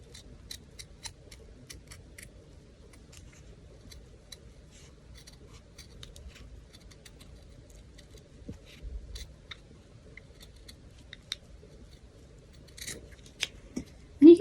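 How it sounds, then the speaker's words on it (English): Scissors snip yarn on a small crochet strawberry hair clip, cutting at a diagonal. The snips are quiet and irregular and sound close up, with a few louder cuts near the end and no talk. "to cut, I'm just going to be very careful, kind of cutting at a diagonal"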